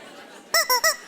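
Three loud, bright squeaks from a rubber toy chicken called Charlie, coming in quick succession after a quiet room background.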